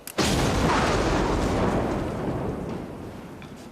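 Old shells detonated in a controlled explosion on a beach: one loud deep boom erupts at the start, then a long rumbling roar slowly fades away.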